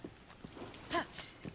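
A horse's hooves clip-clopping in the video game Zelda: Tears of the Kingdom, a few light, unevenly spaced footfalls at moderate distance over a quiet background.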